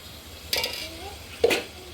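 Chicken pieces coated with turmeric and salt are tossed in a pan, giving two short scraping, clattering bursts of stirring about a second apart, close and fairly faint, with a low background hum.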